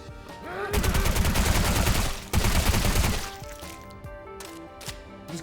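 Suppressed gunfire from a weapon in the video game Sulfur: dense rapid bursts of muffled shots in two loud volleys, followed by quieter game sounds and faint musical tones.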